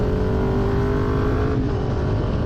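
A Kawasaki Ninja 400 with a Leo Vince exhaust revving under a highway underpass, a loud, steady engine growl with an echoing drone that eases slightly near the end.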